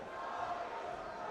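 Audience cheering and shouting in a hall during a deadlift attempt at a collegiate powerlifting nationals competition, a steady fairly faint crowd roar throughout.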